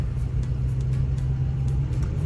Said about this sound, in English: Driving the excursion, leaving Florida.